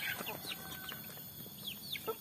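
Roosters and a hen cluck close by in a misty village morning, a series of short throaty clucks and chirpy calls scattered over a few seconds against a quiet rural background, with faint talk mixed in.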